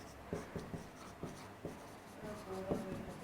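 A pen or marker writes out a matrix math answer, giving a run of short, scratchy strokes with brief pauses between them, close and fairly quiet, with no talking.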